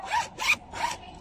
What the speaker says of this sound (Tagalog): pag i-open mo siya, ganyan smooth yung zipper niya